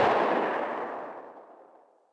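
A single booming WWI shotgun blast layered with heavy distortion, loud and explosive at the start, then a long rumbling tail that fades out over about two seconds.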